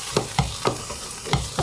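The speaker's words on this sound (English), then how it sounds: "I'm just gonna kind of mix it up in this pan." Kale and onion being stirred and tossed in a hot pan, with several distinct scraping stirs at an uneven rhythm over a soft sizzle, close up.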